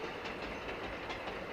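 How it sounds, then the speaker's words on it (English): In the A-Train 9 simulation game, a goods train runs along the line with a steady, faint rumble and soft rhythmic rail clatter, heard alone. "This is our new goods train."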